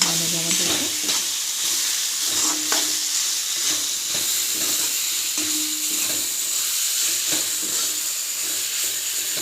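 Chicken pieces marinated with turmeric, oil and salt sizzle steadily in hot oil in a pan over a medium-high gas flame, with occasional stirring scrapes, close and continuous.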